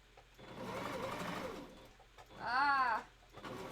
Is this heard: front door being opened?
no